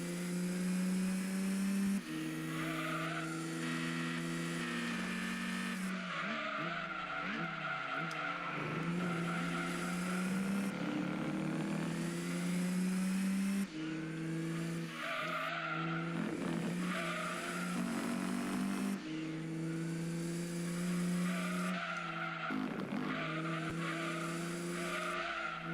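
A race car in Gran Turismo 2 losing grip, with long wailing tire squeals and engine whine sliding up and down over repeated laps, broken by sharp thuds as it strikes walls, loud and continuous throughout.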